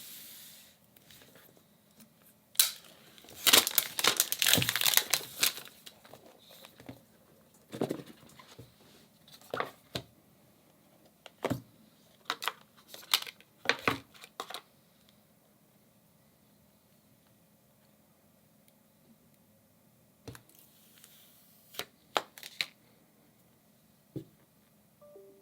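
Packaging for an iPhone 12 Pro Max crinkles, rustles and pops in scattered close bursts, with quiet pauses between handling sounds and no talking.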